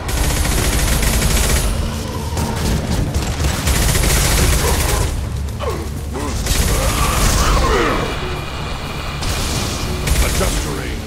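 Rapid bursts of weapon fire and mechanical clatter fill a Mass Effect 2 firefight, loud and dense with booming impacts; voices speak over the shooting.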